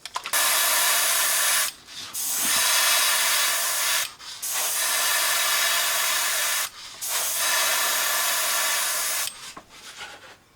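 An airbrush sprays opaque black paint onto a chrome fishing lure in four long, steady hissing bursts separated by short pauses, close and loud with no talking.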